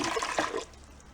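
Water pours and splashes into the lower reservoir of a broken portable ice maker, a short gush that fades to a soft trickle after about half a second.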